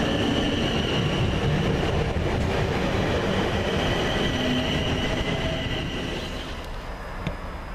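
Class 450 electric train, units 450.011 and 450.089, on a London Waterloo to Portsmouth Harbour service at Havant. It passes close and loud with a steady rumble and wheel noise that fades slightly toward the end.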